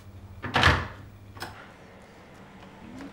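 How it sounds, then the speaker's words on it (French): An electric door in an inclusive-housing apartment opens at the press of a button: a firm clunk, then a softer click a moment later, with no talking. "il faut que j'appuie sur le bouton et je peux ouvrir toute seule ma porte"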